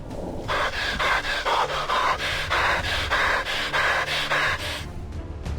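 Heavy, rhythmic breathing of a soldier in the XCOM video game, a steady run of about ten close, loud pant-like breaths alone with no talk.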